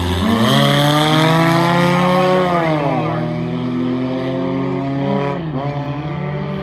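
Several race cars launch together at the start of a heat at M-40 Speedway, loud close engines with rising, sweeping harmonic pitch as they accelerate and shift, sustained for several seconds with a brief dip near the end.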